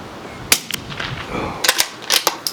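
A CZ 457 rifle fires outdoors. Several sharp, cracking shots are spaced apart, with a couple of them close together. They sound moderately loud and carry no speech.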